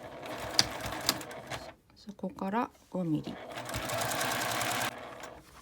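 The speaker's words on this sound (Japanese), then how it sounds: "袋縫いにするので表側からミシンをかけるような形になります" A sewing machine stitches a 5 mm seam along a drawstring bag, with a rapid mechanical whir in bursts before and after a short spoken phrase.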